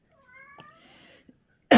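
An unhappy pet cat meowing indoors on a rainy day, one drawn-out plaintive meow close by in a quiet room, then a sudden loud thump at the end.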